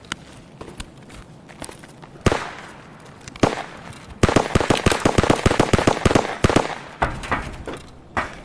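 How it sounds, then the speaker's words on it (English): Gunfire in the Escape from Tarkov shooter game, with sharp scattered single shots early on and then a dense rapid burst of cracking reports in the middle, loud and close. "Where was I getting shot from"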